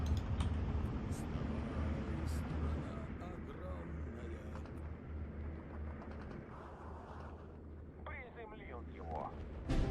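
Bombing in the video game Steel Division 2 brings a dense, rumbling wash of explosions and artillery-like booms that slowly thins out, with a voice talking over it.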